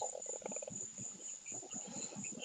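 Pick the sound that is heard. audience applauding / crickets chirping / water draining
crickets chirping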